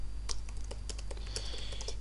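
Fingers tap rapidly on a computer keyboard, an uneven run of close, crisp keystrokes with a faint steady hum underneath.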